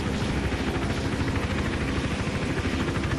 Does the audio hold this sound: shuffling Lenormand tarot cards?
no